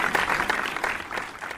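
A short burst of clapping from a small group, quick uneven hand claps that thin out toward the end.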